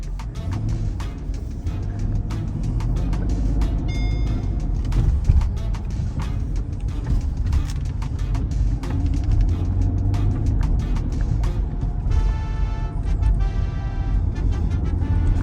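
A 2006 Mercedes SL500 fitted with coilovers cruises along the road, its engine and tire roar forming a steady, loud drone heard from inside the car, with sharp ticks and rattles scattered over it and no talk.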